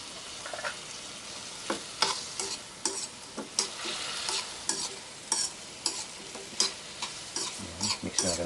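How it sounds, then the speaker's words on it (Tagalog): Marinated sitas, a barbecue-style dish, is stirred in a frying pan, with steady sizzling frying broken by repeated sharp scraping strokes of the stirring utensil, close and moderately loud. "Yan, mix na natin na mix lang."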